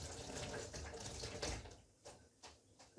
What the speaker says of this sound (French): je vais rincer la menthe